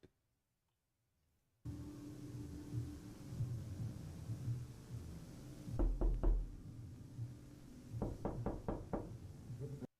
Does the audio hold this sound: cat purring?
no